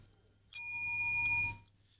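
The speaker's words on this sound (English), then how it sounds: "It's a very nice bell sound." A single bright bell ding rings out clearly for about a second over a quiet low hum, then fades, close and alone.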